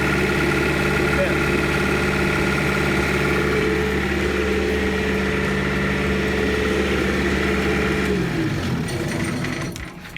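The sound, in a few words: running generator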